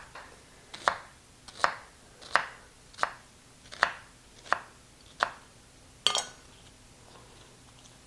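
A knife slices an onion along its lines, about eight crisp, evenly spaced cuts on a board close by, each with a short ringing tail, and no talking.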